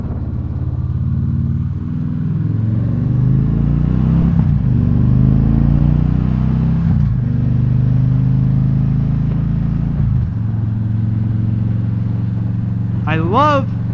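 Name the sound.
Victory Cross Country motorcycle V-twin engine running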